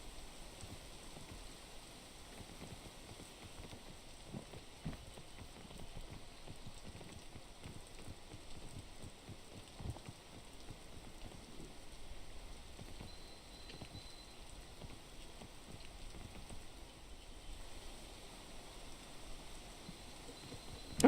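Rain patters steadily in the climbing video game Peak, a soft, even wash of scattered drops with faint taps, continuous and unchanging.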